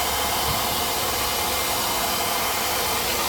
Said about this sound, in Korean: 그때를 청소기와 동시에 같이 닦아주는 그런 과정이 되겠습니다